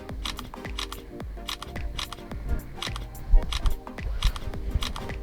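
A camera shutter fires in repeated quick bursts during a profile photo shoot, crisp clicks arriving in irregular clusters, close and fairly quiet, with no talking.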